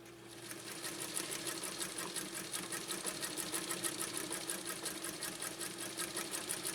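A 1.5 amp Japanese Viscount Model 929 sewing machine stitching at a steady pace, a smooth, even rapid clatter that stays constant and fairly quiet, with no voices.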